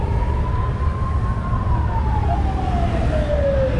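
Police car siren on the Smokey and the Bandit celebrity car at a classic truck show in Somerset, a steady wailing tone slowly falling in pitch over constant crowd and engine noise.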